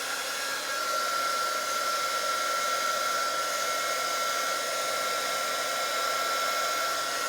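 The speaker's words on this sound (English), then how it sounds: "this is my favorite heat gun" A handheld heat gun blows hot air steadily from start to finish, a loud, even whoosh with a faint high whine, used while working on a gold and white cheeseboard.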